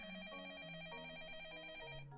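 A telephone ringing in a visual novel video game, a quiet electronic ring tone with a warbling repeated trill over a stepping melodic line, continuous and faint, with no one talking over it.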